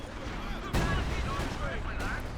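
Mortar artillery fire in Company of Heroes 2 during a 2019 world championship match gives a sudden booming blast and then a second, lighter impact, over a continuous battle din and a commentator's voice.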